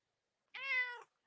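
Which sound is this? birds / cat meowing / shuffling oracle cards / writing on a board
cat meowing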